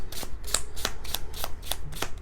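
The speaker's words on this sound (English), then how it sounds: "Pull out a card from the spiritual deck." Tarot cards from a spiritual deck being shuffled, a quick run of crisp riffling snaps in a steady rhythm, close and clear with no talking.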